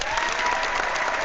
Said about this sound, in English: Round of applause for Hangouts